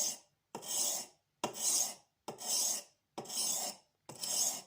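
Steady back-and-forth strokes of a blade on an oiled Norton India stone give six even, close rasping scrapes, each followed by a brief pause.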